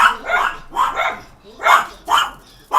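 Dogs named Cleo and Fizzo bark in repeated loud, close bursts, about six rhythmic barks with short gaps between them.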